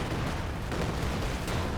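Katyusha rocket artillery firing in a tank battle video game, a continuous, loud, dense roar of launches and blasts filling the whole stretch without pause.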